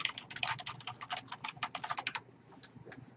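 Rapid keystrokes on a computer keyboard as a short note is typed, a quick clattering run of close taps that slows to a couple of isolated presses near the end, with no voices.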